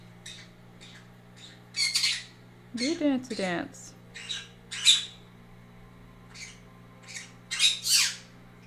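Baby birds squawk in repeated shrill bursts, close and loud against a low steady hum, while someone talks between the calls.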